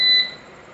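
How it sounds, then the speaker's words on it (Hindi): Pressing a switch on a UPS sets off a single short, clear electronic beep, loud and close, which cuts off after a fraction of a second into faint hum. "प्रेस होने पे जैसे ही स्विच को प्रेस करते हैं बीप का साउंड आता है।"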